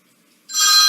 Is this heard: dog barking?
no